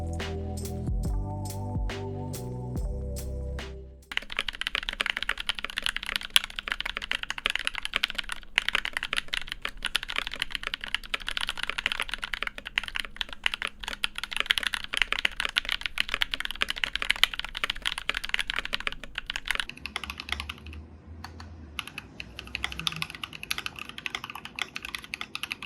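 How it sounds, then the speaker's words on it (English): Mechanical keyboard typing on budget Tecsee switches: a run of steady, close, dense keystroke clacks for most of the stretch, preceded by a few seconds of soft musical tones, with no talking. "I'm going to add some sound test clips here from other content creators to showcase these switches' full sounds"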